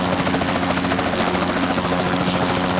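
Elite helicopter in the video game Kaskade, a steady, loud rotor drone with a buzzing, throbbing hum that holds constant throughout, with no voices.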